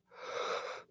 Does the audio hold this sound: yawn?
yes